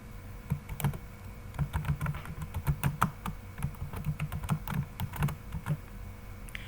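Quick, uneven bursts of clacking keys on a computer keyboard as a company name is typed into an Excel spreadsheet, close and fairly quiet, with short pauses between words.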